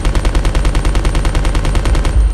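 Machine gun fire in Resident Evil Code: Veronica, a loud, rapid, evenly spaced automatic burst running without pause, with no voices.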